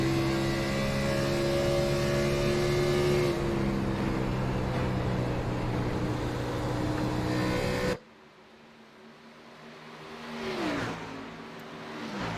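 Race cars at Darlington Raceway roar past, a loud sustained engine drone holding steady pitch for several seconds, then cutting off abruptly into quieter track ambience before another car swells nearer and its engine note drops as it passes.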